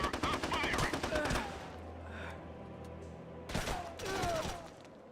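Bursts of automatic gunfire from the video game SOCOM Combined Assault, fired in a dense volley at the start and again in a shorter burst near the end, with a low rumble between them.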